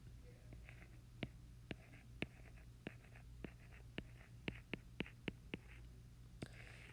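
Small pen or stylus writing on a surface: a series of short, sharp taps and scratches at an uneven pace, fairly close, with faint background hum and no speech.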